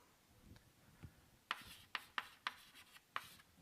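Chalk taps and scrapes on a blackboard in a university real analysis lecture, a series of short, crisp strokes in an irregular rhythm, quiet and close, with no speech.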